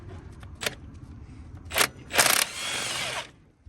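A socket wrench ratchets on the old bolts of a 1927 Chevy truck, with a few short metallic clicks and then a longer rasping run of ratcheting, close and fairly loud in a quiet setting.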